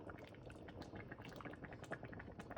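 Thick fall soup topped with shredded mozzarella is ladled into a bowl, heard as soft, close, irregular liquid pouring and splashing with small glugs and drips throughout, and no talking.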